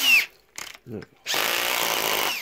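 Power drill with a slipping chuck revving briefly, then running steadily into a workpiece, a close buzzing whir after a few short spoken words.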